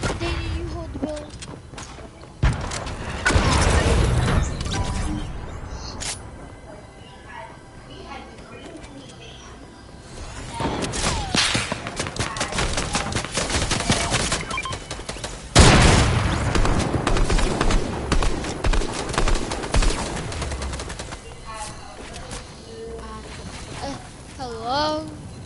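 Gunfire and explosive booms in Fortnite, loud bursts of shots and impacts scattered over steady game noise, with players talking over the action.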